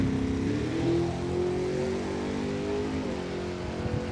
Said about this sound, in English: Watching a little drag racing at 42.